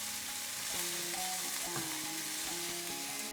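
Chopped pepper sizzles in a hot pan over medium-low heat, a steady hissing fry with faint clinks of stirring, continuous and close, no voices.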